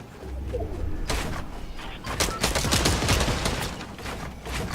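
Gunfire in the Fortnite video game: a rapid run of sharp shots, some in quick bursts, from another player firing from a mountaintop, fairly loud and dense for several seconds with no talk.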